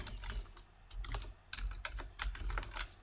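Rapid clattering keystrokes on a computer keyboard while drafting in AutoCAD, a close, uneven burst of clicks with brief pauses and no talking.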